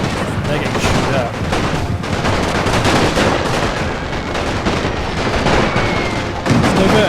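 Sustained battlefield gunfire in NTW: The Great War, a World War I strategy game: dense, continuous rifle and machine-gun volleys with booming artillery underneath, loud and unbroken throughout, with a voice faintly present beneath the din.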